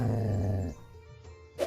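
A dog named Brian H. Jensen in the Kelvin and the Infamous Machine video game gives a deep, rumbling growl up close, loud for under a second and then trailing off into quiet background sound.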